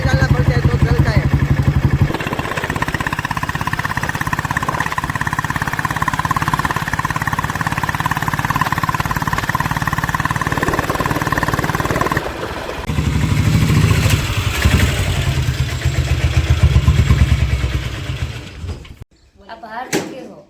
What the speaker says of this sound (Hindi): ये पेट्रोल बुलेट नहीं है, डीजल बुलेट है. तो डीजल डालना पड़ता है तो चलता है.